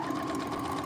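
A sewing machine runs steadily through fabric, a fast continuous mechanical whir with rapid needle pulses, fairly faint and uninterrupted.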